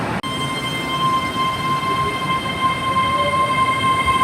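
Class 800 train 800-316 pulls out of the station on the 12:06 service from Cheltenham Spa to London Paddington, giving a steady loud rumble with a sustained electric whine and a faint squeal, and no voices.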